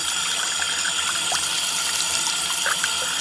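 Hot water pouring steadily from a bathroom faucet into a sink during a repair, a continuous close splashing rush with a few brief bright splats, no talking.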